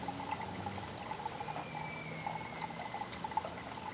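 Coolant trickling and pouring steadily into the cooling system of a 2019 Ford Edge 2.0 EcoBoost being filled with a vacuum tool, a faint continuous liquid dribble with soft gurgles and no talking.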